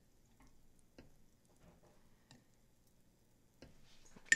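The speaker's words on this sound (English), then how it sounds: "I just use a knife and just start working to melt all of this down" A knife works through melting beeswax for homemade deodorant, giving faint, sparse scraping clicks and soft ticks at irregular intervals, with a sharper scrape at the very end.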